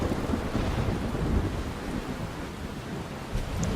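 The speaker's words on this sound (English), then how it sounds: "You're kind of in a storm here." Thunderstorm in the video game Life is Strange: a steady roar of rain and low rumbling thunder fills the clip without pause, with wind-like gusts rising briefly near the end and no voices.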